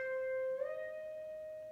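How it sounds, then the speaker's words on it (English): A single picked electric guitar note bent up three frets at the 13th fret, the pitch sliding smoothly upward partway through and then sustaining as it slowly fades, clear and alone. "Only hit it once. You're going to hear three notes."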